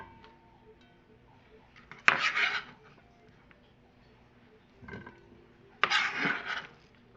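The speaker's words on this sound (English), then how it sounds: "So we just take all of this and we throw it in our pot." Home-canned beans are tipped into a cooking pot in two separate pours, each a brief wet clatter and slosh against a quiet room background.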